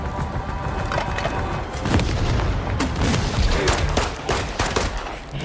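Rifle gunfire during an assault on a gang's hideout in an action film: dense, overlapping bursts of shots and cracking impacts, loud and chaotic throughout with splintering debris and booms mixed in.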